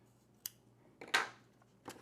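Scissors snip through sewing thread while a beret is being made: three short, crisp cuts, the middle one loudest and longest, each standing alone against a quiet room.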